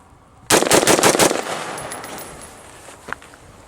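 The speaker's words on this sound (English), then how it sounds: "We're going to do 5 rapid fire." A handgun in an extreme cold test fires five rapid shots in a tight burst, loud and close, followed by ringing echoes fading out and a small clack afterward.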